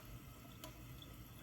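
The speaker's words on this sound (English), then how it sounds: "Can't see the rinsing, that's what I'm doing." A faucet runs steadily while a lobster is rinsed, producing a faint, continuous wash of water with a brief splash in the middle.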